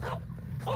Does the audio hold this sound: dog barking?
yes